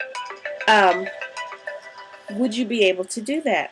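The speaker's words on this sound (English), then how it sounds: "excuse that noise. It was my phone" A phone ringtone plays a bright melodic tune, sounding in short bursts mixed with and partly masked by a person talking nearby.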